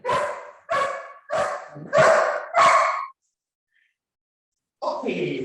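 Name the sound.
dog barking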